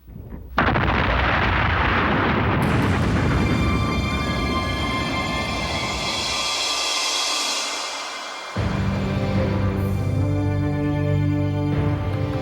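Massive explosion in a Korean historical documentary drama, a loud sustained rumbling blast filling the whole clip with a brief dip before a renewed roar near the end, no voices.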